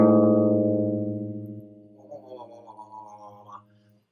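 Two guitar A notes, slightly out of tune with each other, sound together and decay, producing a slow wavering beat; later the ringing fades under faint rustling and handling noise.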